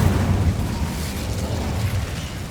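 The Incendio fire spell is cast in Hogwarts Legacy on PS5, giving a loud, close, rumbling burst of flame that roars and crackles steadily across the moment.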